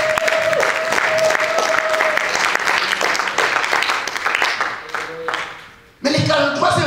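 A church congregation applauds and cheers, dense rapid clapping with crowd voices that swells, tapers into a brief lull, then surges back loudly.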